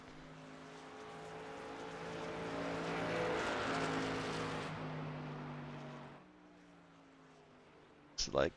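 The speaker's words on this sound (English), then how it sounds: "It's like everybody else is kind of getting out on the track now." Race trucks at a VSpeed Contender Series event roll onto the track, engines swelling as they pass then fading to a lower idle hum, with a brief voice at the end.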